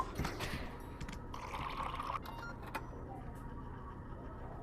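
A cup of wine being poured in the video game Job Simulator, a soft liquid stream lasting about a second amid faint kitchen clatter, quiet and close.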